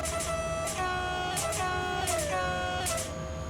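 Locomotive horn sounding in the Simrail train simulator, several sustained harmonic blasts with a pitch that shifts slightly, held over a constant rumbling engine background.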